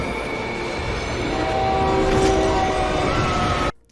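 A subway train rumbles steadily, with faint squealing wheel tones rising midway, before the sound cuts off abruptly near the end.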